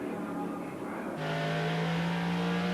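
Race cars, including a Lister Jaguar, roar past on a circuit with a loud, close engine drone that shifts pitch as a car passes and accelerates, under a commentator's voice.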